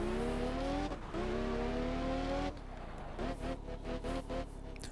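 Maserati MC12 in Test Drive Unlimited 2 pulls hard with a sustained rising engine whine through two gear shifts, then drops to choppy revving bursts, close and steady.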